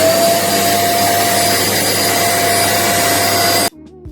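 A new vacuum cleaner runs at close range with a loud, steady roar and high whine while sucking up cat litter from a parquet floor, then cuts off abruptly near the end.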